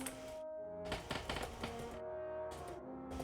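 Computer keyboard keys clatter in short bursts of quick clicks and taps, close by, separated by brief gaps of near silence, with a faint tone running underneath.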